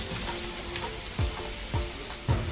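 Diced white onion sizzles steadily in hot vegetable oil in a pan on medium-high heat, a dense crackling hiss broken by three soft clunks of stirring, close and continuous with no talking.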